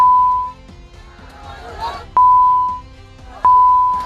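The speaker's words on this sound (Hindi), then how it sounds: "हमें पूरी वीडियो को ही बीप पर चलाना पड़ रहा है" A loud, pure censor beep tone sounds three times over a news clip, each cutting sharply over muffled crowd noise and talk underneath.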